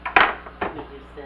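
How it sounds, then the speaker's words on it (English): Spatula scraping and spreading crazy-crust pizza batter in a pan. Two or three short metallic scrapes and clinks sound close, with some speech mixed in. "Just going to spread it out with a spatula."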